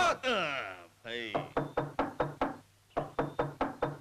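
Knuckles rapping on a door: a few heavy knocks, then a steady series of sharp, evenly spaced raps close by, with a voice speaking between and over them.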